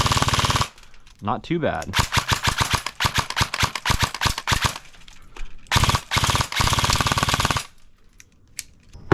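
An airsoft rifle fires on full auto in long rapid bursts, loud and close, with brief pauses between strings of shots; someone speaks briefly during a gap.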